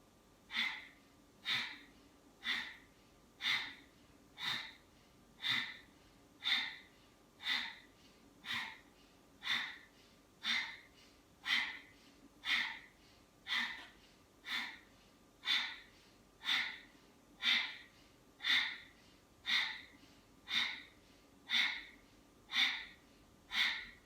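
Sharp, rhythmic breaths pump out steadily during a core strength exercise, about one forceful snort-like burst per second for the whole stretch, close, even and unbroken, with no talking.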